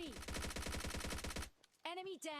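Rapid automatic gunfire from a video game, a dense burst of about fifteen loud shots fired at a bot, cut off abruptly and followed by short synthetic game effects.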